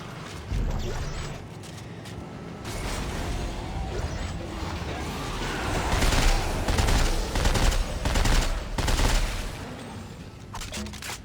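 A shotgun-SMG combo weapon fires in Dead Space 3, rapid bursts of shots and mechanical clanks building through the middle and end amid chaotic game noise.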